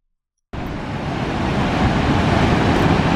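Rushing water at the source of the Saraswati river in Uttarakhand, a dense, steady broadband roar that starts abruptly after a brief silence and continues loud and unbroken, close to the microphone, with no voices.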